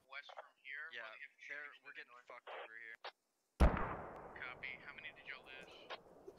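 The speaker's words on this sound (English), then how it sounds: "So we're hearing mortar shots coming in." Incoming mortar rounds in the Squad video game land with a single loud, sharp blast partway through, followed by a rumbling decay. Speech is heard before the impact, and faint talk continues under the fading boom.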